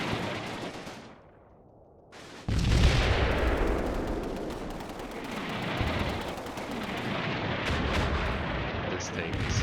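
Artillery fire for effect in the Combat Mission war game, with a loud burst, a brief lull, then a sustained roaring barrage of heavy impacts and rumbling blasts that stays dense to the end.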